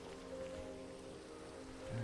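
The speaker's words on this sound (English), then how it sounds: "I kind of like that when it rains" Steady, soft rain patters continuously in the Minecraft video game, a faint even wash of falling drops with a low tonal hum beneath it.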